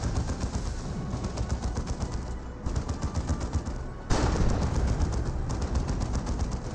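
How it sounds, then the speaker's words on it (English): Heavy turret firing in Dawn of War 2 with the Elite mod, a relentless rapid stream of loud automatic shots and booms that runs without pause, with a sudden jump in intensity partway through. "Heavy turret firing away."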